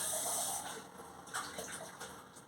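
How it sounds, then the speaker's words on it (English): Water runs and splashes into a beer glass to wet it, a short bright gush that tapers into softer trickling, close and alone. "So best to wet your glass a little bit with a bit of water first."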